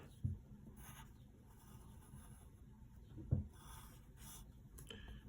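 Pencil drawing on paper, sketching a cartoon thumb, palm and fingers: quiet, faint scratchy strokes in a few soft bursts, with a couple of light taps, close and alone.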